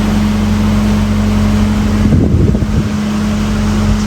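A canal boat motors through a tunnel with a steady, loud engine drone and constant low hum, briefly swelling with a rumbling rush partway through.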